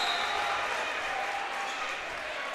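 Crowds of both teams at a high-school volleyball match cheering and clapping, a loud, continuous roar filling a gym, with a commentator talking over it.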